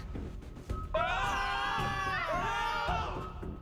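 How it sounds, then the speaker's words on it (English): Shrill, sustained screaming from the video game CookieRun: Kingdom, a crowd-like chorus of wailing voices rising after a second and holding, moderately loud over game ambience. "It's probably, you know, just the screams of the damned."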